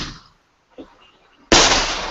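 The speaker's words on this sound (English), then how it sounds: "Big time serious fireworks" Large Fourth of July fireworks go off: a faint pop, then a sudden loud burst that crackles on, close and intense, after a short quiet gap.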